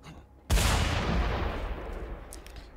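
A single loud gunshot in the Mad Max video game cracks out suddenly and rolls into a long, booming echo that fades slowly.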